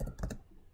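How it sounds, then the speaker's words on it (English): Quick soft keystrokes on a computer keyboard, three or four clicks in rapid succession, close but faint, then fading out. "I'm typing on the wrong side"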